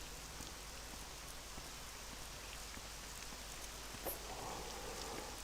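Steady rain falling in the video game Morrowind, a continuous hiss of drops on surfaces with no voices, holding even throughout with a brief brighter patter near the end.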